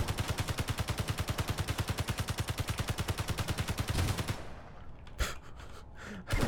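In the Space Engineers game, a gun fires a long, steady, rapid burst into a plane, each shot evenly spaced and loud, then stops, leaving a few scattered impacts and thuds.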